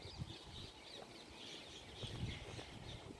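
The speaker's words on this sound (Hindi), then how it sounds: "यहाँ पे पक्षियों के चहचहाने की आवाज़ बहुत ज़्यादा आती है" Birds call at Bhangarh Fort among banyan trees, with scattered chirps and clucking calls over a soft, steady outdoor background, fairly faint and without speech.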